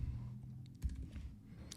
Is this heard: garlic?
no